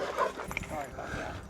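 A dog on a lakeshore lets out quick, close barks and yips with a whiny edge, tangled up with people talking over it.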